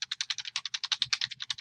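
Rapid, fairly even keystrokes on a computer keyboard, about nine per second, close and clear for under two seconds with no talking.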